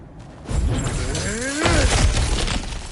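Objects shattering and breaking apart as they are smashed in the God of War Ragnarok video game, a burst of crashing debris with a low boom that swells and fades over a couple of seconds.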